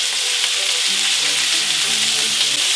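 Shrimp sizzle loudly in a hot pan, a dense, constant frying hiss that fills the whole moment without a break.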